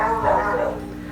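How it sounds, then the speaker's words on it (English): A pet dog gives a short, near bark that trails off into a softer whimper, heard alone in a room without talk. "my dog is barking, so he's getting spooked"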